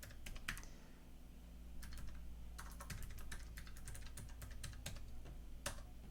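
Quick keystrokes on a computer keyboard, soft and fairly close, coming in short irregular clusters over a steady low hum with no one talking.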